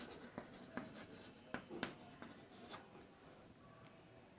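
Pen on paper while writing out a determinant expansion for a class 12 maths exercise, a series of faint, close scratching strokes and taps in an irregular rhythm against a quiet room.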